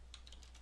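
Light keystrokes tap on a computer keyboard, about half a dozen quick, faint clicks in an even rhythm over a low steady hum.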